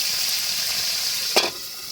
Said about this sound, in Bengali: প্রথমে হালকা পাতলা করে টকের জন্য পটল মাছটা ভেজে নিব।